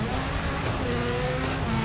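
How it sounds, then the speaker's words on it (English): A Rally1 hybrid rally car powers along a shakedown run, its engine holding a loud, close, continuous drone that shifts in pitch as it pulls. "the first shakedown in the Rally1 car"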